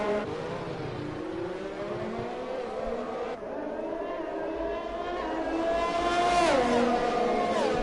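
F1 race cars in a video game racing through the Monaco chicane, engines droning steadily at high revs and rising in pitch as several cars pass close by in turn.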